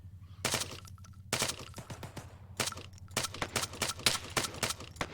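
Gunfire in the Arma 3 video game comes in repeated sharp bursts, some as fast rattling volleys and others as spaced single cracks. Every shot is loud and close.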